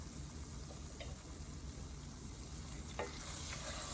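Milk is being stirred into a sausage gravy roux of fat and flour in a hot pan, giving a steady sizzling, frothy hiss with faint scraping stirs throughout and no talking.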